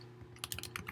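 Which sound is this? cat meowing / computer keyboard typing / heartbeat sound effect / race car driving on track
computer keyboard typing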